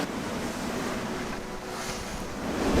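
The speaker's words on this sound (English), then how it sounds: "the wind is howling down between the land here" Strong wind gusting at 33 to 36 knots around a sailing yacht, the Altor of Down, on a reefed passage from Largs toward Portavadie, a steady loud roar of wind and surf rising toward the end, with no talk.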